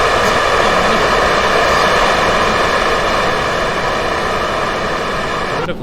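Kerbal Space Program rocket engine at full throttle during launch with side boosters attached, a steady, loud, broadband roar that holds for the whole stretch with no one talking.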